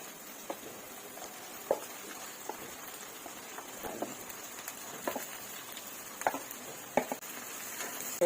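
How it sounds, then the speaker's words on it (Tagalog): Chicken liver stir-frying for adobo, a soft steady sizzle under scattered clacks and scrapes of a utensil stirring in the pan, close and fairly quiet with no talk. "stir-fry natin guys"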